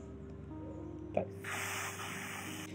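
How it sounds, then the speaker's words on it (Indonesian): Contact cleaner sprays from an aerosol can into a Tamiya Mini 4WD motor, a sharp click followed by a close, loud, steady hiss that runs to the end over a low motor hum. "Kita semprot pakai kontak cleaner ya."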